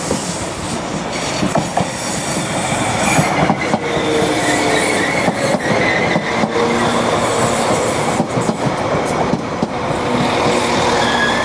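A two-unit passenger train rolls into a station on the main line, a loud sustained rumble of wheels on rail with rhythmic clatter, faint squeal and steady mechanical roar throughout, no talk.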